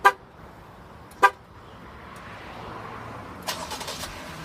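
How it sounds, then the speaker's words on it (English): A Jeep starting remotely from its key fob, opening with two sharp horn-like chirps, followed by the engine cranking and catching into a steady low idle, heard from nearby with no talking. "you do have remote start built right into the key fob"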